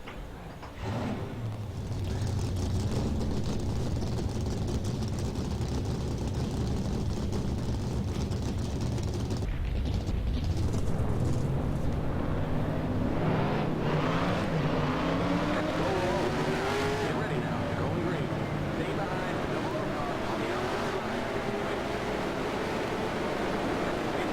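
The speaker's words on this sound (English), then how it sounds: "Drivers, start your engines" Race car engines roar in NASCAR Racing 2003 at Dover, a dense continuous drone with rising and falling revs as cars pass, loud and steady throughout with a brief dip near the middle.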